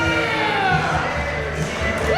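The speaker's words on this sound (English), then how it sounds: "Listen to the crowd, man." Loud, sustained crowd noise fills a wrestling event hall, overlapping cheers and shouts with rising whoops, steady throughout with occasional thumps underneath.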